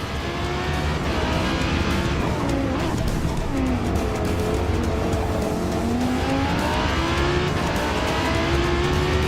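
A race car in Forza Motorsport laps Laguna Seca with a steady, loud engine drone whose pitch climbs and dips through gear changes and corners, with tire squeal mixed in.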